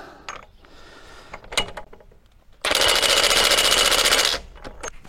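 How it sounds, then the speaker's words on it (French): Close by, an impact wrench set to tighten engine bolts on a cylinder head and timing cover hammers out a loud, continuous rattling burst of about a second and a half, with scattered clicks and clanks of tools before and after. "je peux régler ma clé à choc à 200"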